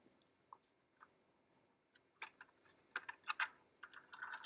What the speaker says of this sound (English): there's just the third leaf running through the mini maker